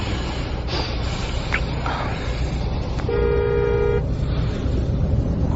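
Road traffic rumbles steadily while car horns sound, a few short toots followed by one long sustained honk about a second in length, near and fairly loud, with no talking.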